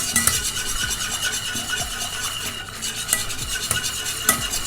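A whisk beats a chendol mixture in a pot, a steady fast scraping and stirring with sizzle-like hiss and light metallic clinks throughout.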